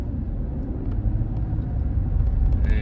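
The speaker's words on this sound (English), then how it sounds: "driving from Gray towards the airport in Blountville" Steady rumbling road noise from inside a car driving between Gray and Blountville, Tennessee, a continuous loud low drone of tyres and engine that swells slightly toward the end.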